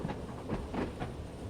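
A simulated train rumbles along at speed in Train Sim World 3, a low steady roll with soft rhythmic clickety-clack pulses, fairly faint and without voices.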